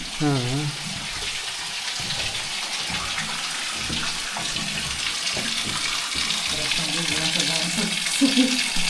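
Water pours steadily from an animal-head spout shaped like a lion's head, a continuous splashing rush with people talking faintly over it.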